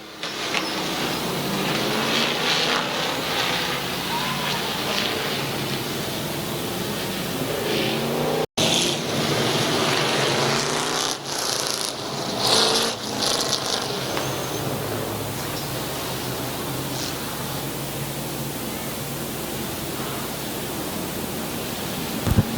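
Race cars at Midvale Speedway circling under caution, a broad steady roar of engines and rushing noise that swells and eases as the field passes, with no talking.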